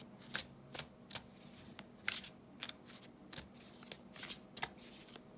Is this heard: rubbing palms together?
no